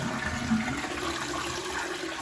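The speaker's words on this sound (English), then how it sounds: "We'll give that a flush." A household toilet flushes with a steady, loud rush of water that carries on unbroken close by.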